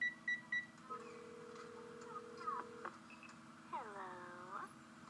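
A telephone number is dialed in the video game Ace Academy. A few quick keypad beeps come first, then a long steady electronic tone, followed by warbling chime-like tones, all clean and close.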